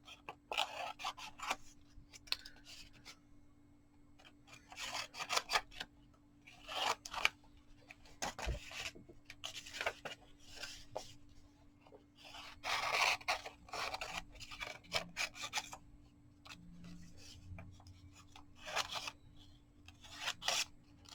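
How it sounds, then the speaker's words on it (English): Scissors snip repeatedly through small paper scraps for a collage, in quick close bursts of short cuts separated by brief pauses, with no talking. "I'm just going to go ahead and cut a few more little pieces out of some of these scraps"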